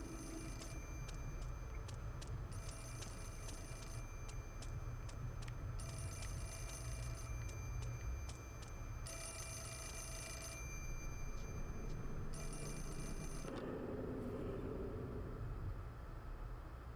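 A telephone rings in the Wii horror game Fatal Frame: Mask of the Lunar Eclipse, repeated bursts of trilling bell separated by short gaps over a steady droning ambience, until the ringing stops and a low hum remains.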